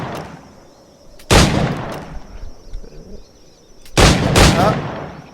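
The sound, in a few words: gunshots shooting targets in video game Assassin's Creed IV Black Flag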